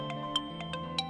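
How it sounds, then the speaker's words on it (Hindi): A phone ringtone plays quietly in a television drama scene, a short run of soft, evenly spaced chiming beeps over a faint steady tone. "आलिया का फोन"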